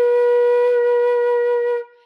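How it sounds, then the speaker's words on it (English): A single steady flute note, B flat, held for about two seconds before it fades out. "this next note we finally have is our B flat."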